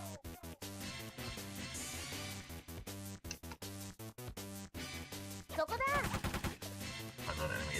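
Enemy gunfire in the tank game War of the Human Tanks ALTeR plays as rapid, evenly spaced shots over steady game music, ending in a louder burst of chirping effects.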